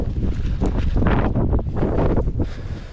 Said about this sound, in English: This wind is brutal.